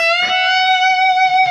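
Electric guitar plays a whole-step bend at the 12th fret of the high E string, one sustained, clear, ringing note with slight vibrato, close and alone.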